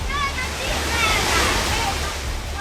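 Floodwater surges through a narrow street in Jodhpur, a steady loud roar of rushing, sloshing flow with no break, close and dense throughout.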